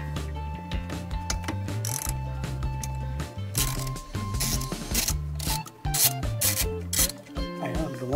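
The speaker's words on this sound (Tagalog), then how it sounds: "Okay, gamit ating socket wrench." A socket wrench with a number 10 socket ratcheting on a Toyota Rush during a blind spot radar install, a steady grinding, clicking mechanical texture lasting throughout, close and fairly loud.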